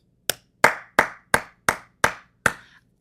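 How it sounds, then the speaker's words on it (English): A person claps their hands seven times, sharp, close and evenly spaced, each clap ringing briefly in a quiet room with no talking. "those are claps. I'm clapping for you"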